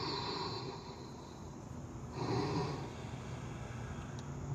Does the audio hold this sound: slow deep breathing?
yes